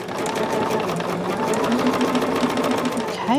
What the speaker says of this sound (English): So when I sew this, those points come together.